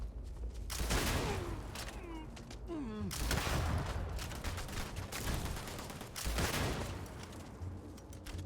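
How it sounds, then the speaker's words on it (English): Shotgun blasts in the space game Starfield, several loud booming shots in bursts with whooshing game effects and tonal chirps between them, a voice talking briefly over the combat. "Shotgun is definitely the weapon of choice for this thing"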